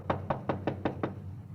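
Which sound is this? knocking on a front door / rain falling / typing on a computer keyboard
knocking on a front door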